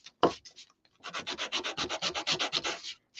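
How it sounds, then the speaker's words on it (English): Rapid, even back-and-forth rubbing of 120 grit sandpaper cleans up the edges of a wooden cutout, close and distinct, preceded by a few brief scratchy strokes and a short pause. "this is a 120 sandpaper, and we're just going to clean these edges up like this real quick"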